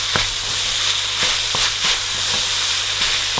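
Nigerian party fried rice sizzles loudly in a hot pan as it is stirred and mixed, a constant close frying hiss broken by several sharp scraping clinks of the spoon against the pan.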